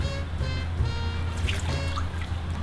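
Water trickles and drips softly as a new item is dipped into a kosher immersion pool, a close, continuous dribble over a low steady hum.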